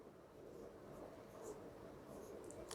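Pen on paper while an equation is worked out, a soft continuous scratching close by with quiet speech under it.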